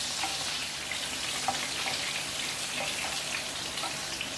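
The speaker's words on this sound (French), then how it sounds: "Je jette mes pommes de terre. Elles vont se dorer." Potatoes fry in a pan of heated butter and oil, giving a steady, even sizzle close by, like light rain, with faint scattered crackles throughout.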